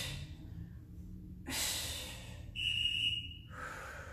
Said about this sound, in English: Big breath at the top.